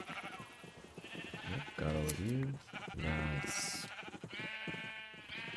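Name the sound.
sheep bleating in a video game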